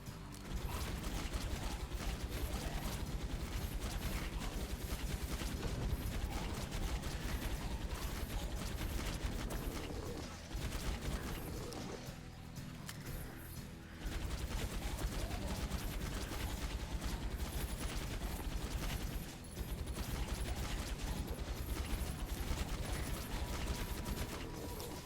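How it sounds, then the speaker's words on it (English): A minigun fires in the Graveyard Gunslingers video game, a dense mechanical rattle of rapid rounds that runs almost continuously, dips briefly, then resumes at full volume. "The minigun's a pretty good weapon, too. I like the minigun."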